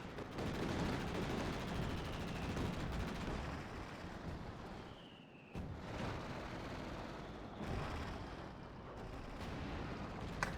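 Sustained heavy gunfire from a Centaur anti-aircraft tank strafing in a 2v2 tank battle video game, a dense continuous rattle of rapid shots with explosions mixed in, loud and close throughout.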